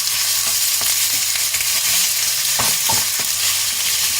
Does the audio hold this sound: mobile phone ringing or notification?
no